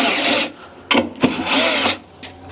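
Screws being backed out of the underside of a mid-century modern wooden table with a power driver, two longer whirring bursts separated by brief knocks and clicks, close and fairly loud with no talk.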